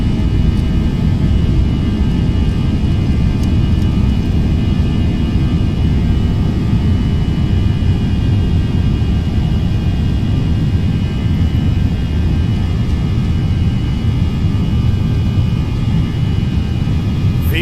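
Jet airliner engines at takeoff thrust, a loud steady roar with broadband rumble and hum heard from inside the aircraft, continuous throughout with no talk.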